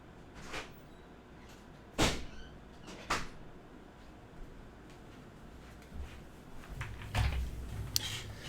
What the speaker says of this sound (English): Sorry, I have a door that doesn't like staying closed.